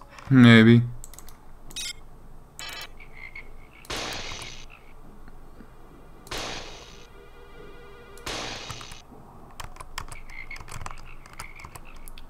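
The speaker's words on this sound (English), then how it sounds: "Oh, I think it's part of the music, the frogs." Frog croaks woven into System Shock game music, appearing as several short separated bursts against a quiet background, with a brief spoken word near the start.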